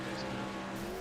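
Race trucks roaring around the Limaland short oval in a night LRL race, engines droning loud and steady with faint tire squeal as one truck spins out on track.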